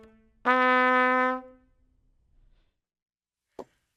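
A single held low C sharp on a trumpet with its slides left unused, so the note sits out of tune; it sustains about a second, then fades, and a short click follows later.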